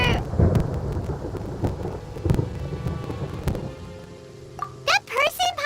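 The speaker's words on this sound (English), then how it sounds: "Paimon, here's Thunder!" Thunder in the video game Genshin Impact cracks and rumbles over steady rain, with several sharp booms, then brief speech-like sounds near the end.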